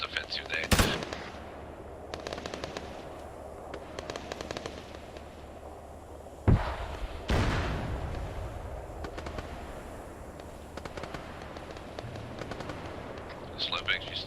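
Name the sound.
gunfire in the video game Arma 3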